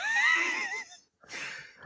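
A voice imitates outrageously loud snoring, two rasping, wheezy snorts separated by a brief pause, close and loud with no other talk.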